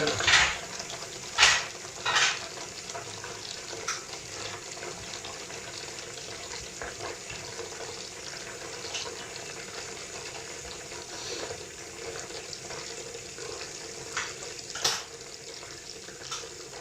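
Tap water runs steadily into a sink, a soft continuous hiss close by, broken by a few brief splashes and clinks near the start and end.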